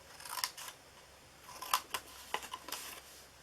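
Scissors snip through paper in a handful of quick, crisp cuts, close and clear, some spaced apart and others in short runs, with no talking.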